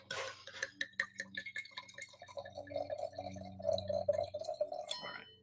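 Barrel Burner Cabernet Sauvignon wine poured into a glass, a close, steady liquid stream with small drips and faint glass clinks, running for several seconds and ending in a sharp knock.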